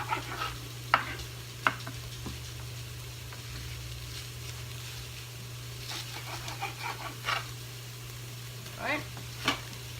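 Swiss chard sautéing in an Instant Pot, a soft continuous sizzle with occasional stirring clinks and scrapes over a steady low appliance hum, no talk.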